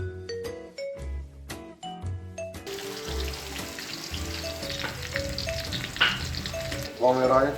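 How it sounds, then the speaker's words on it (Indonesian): Gulai spice paste for a tofu and vegetable gulai sautés in a pan. Clear ringing tones open the sound, then a dense, steady sizzle takes over and ends in a louder bubbling burst. "Lalu kita tumis bumbunya guys"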